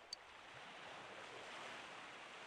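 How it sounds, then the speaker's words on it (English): Ocean waves from the video game Persona 4 Golden roll in as a steady, even wash of surf that fills the background with no voices over it. "The only thing I can hear is the sound of the waves."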